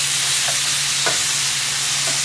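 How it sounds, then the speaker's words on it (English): Ground beef sizzles loudly in a cast iron pan, a dense unbroken hiss close up with a couple of faint scraping stir sounds. "getting this ground beef cooked well enough so that there's no pink"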